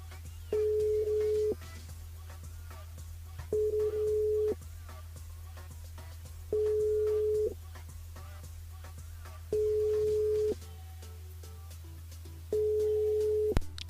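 Telephone busy or unanswered-line tone during a French live radio broadcast: five steady, moderately loud beeps about a second long, spaced roughly two seconds apart, over a constant low hum with no voices.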